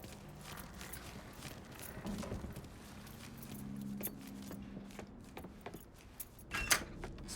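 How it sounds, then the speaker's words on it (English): Keys jangling in the video game Mafia III, light metallic clinks over a steady low car rumble, with scattered mechanical clicks and a brighter rattle near the end, fairly close. "Hey, man, grab those keys."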